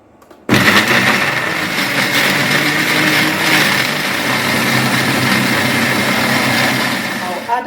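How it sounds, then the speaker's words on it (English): After a quiet moment, a kitchen blender abruptly starts up and whirs loudly and steadily, pureeing tomatoes and garlic for pizza sauce, its motor holding a constant high whine until it briefly tapers near the end. "I'll blend this till it's very smooth"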